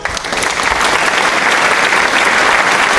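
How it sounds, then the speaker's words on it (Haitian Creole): Wedding guests give a loud, dense round of clapping that carries on steadily and close by for the whole stretch, with no pause or break. "Un gros applaudissement pour eux"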